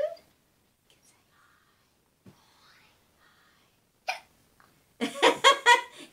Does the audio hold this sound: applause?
no